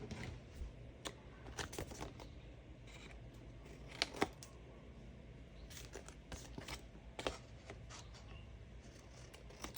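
Scissors snip through the corner of a Shake 'n Bake cardboard box in a series of crisp, irregular cuts and crunches, close and fairly quiet, with no talking.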